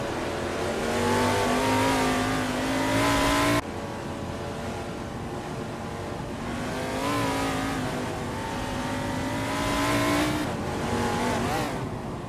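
Race car engines roar in a racing video game with NASCAR 1970-class cars such as a Plymouth Roadrunner and a 1971 Ford Torino: loud, sustained revving climbs in pitch, drops sharply at a shift, then winds up again.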